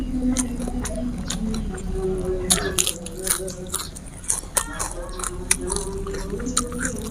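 Crispy salted fish is crunched and chewed close to the mic during a mukbang, loud irregular crackling bites and wet chewing over several seconds, with faint murmured talk in the background.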